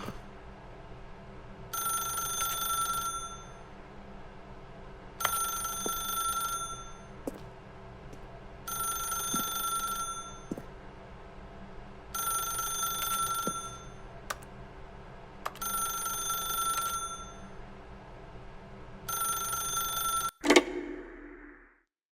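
Telephone ringing in the video game The Stanley Parable: six evenly spaced bursts of an electronic trill, each about two seconds long, over a low steady hum, ending with a clunk as the handset is picked up.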